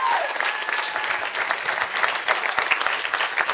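An audience applauds to welcome will.i.am at a student event, steady dense clapping throughout, fairly loud and close, with a faint voice briefly under it.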